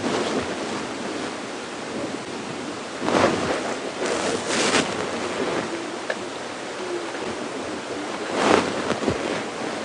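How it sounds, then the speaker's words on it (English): Strong wind gusting across panicum grass during a morning safari drive at Djuma Game Reserve, a broad rushing roar with heavy microphone buffeting and louder swells at intervals. "Oh, look at that wind. Whacking the panicum grass around."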